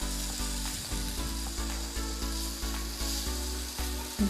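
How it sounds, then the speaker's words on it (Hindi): Onions fry in a pan for a keema patty recipe, giving a steady, close sizzle with faint rhythmic stirring scrapes and no voices. "अनियन को हमें ज़्यादा कुक नहीं करना, बस हमें इतनी देर तक इसको कुक करना है कि ये हल्की सी सॉफ्ट हो जाए।"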